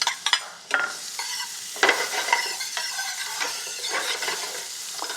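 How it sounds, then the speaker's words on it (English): Onions sizzle and sauté in a hot pan for a Tunisian dish, a steady frying hiss broken by scraping stirs and light clinks of a utensil against the pan, close and clear with no talking. "we're going to saute some onions. And I've got a hot pan right here."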